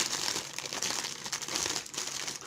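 A plastic-wrapped Yu-Gi-Oh! magazine is handled and pulled at, steady close crinkling of the wrapper continuing throughout with no speech.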